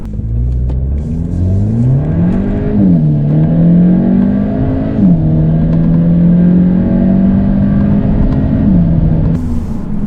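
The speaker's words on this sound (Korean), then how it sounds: "이 아반떼 N9의 발진 가속 성능부터 한번 알아보도록 하겠습니다." Hyundai Avante N Line with a 1.6-litre inline four-cylinder petrol engine launching hard from standstill, engine revving loudly and climbing through gear changes, steady and close throughout.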